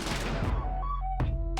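Gunfire effect from the video game Lisa: a few sharp broadband bursts, at the start and at about 1.2 and 1.6 seconds, over sustained game music tones, loud and close.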